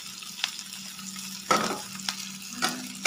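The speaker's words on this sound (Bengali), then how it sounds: "এবার ক্যাপসিকামটাকেও একটু ভালো করে এর সাথে আমি নাড়িয়ে ছাড়িয়ে একটু ভেজে নেব।" Capsicum strips fry with pieces of katla fish in a pan, giving a steady close sizzle broken by a few sharp scraping bursts of stirring.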